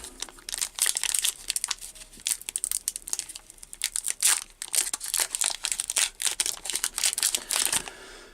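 Foil wrapper of a Pokémon card booster pack being torn open and crinkled close to the microphone, a rapid series of sharp rustling and crackling bursts with short pauses between.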